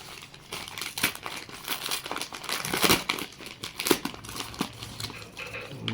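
Plastic packaging from an Amazon parcel holding a Yamaha R15 V4 petrol tank pad crinkles and rustles up close as it is pulled open, with irregular crackling bursts and brief tearing sounds.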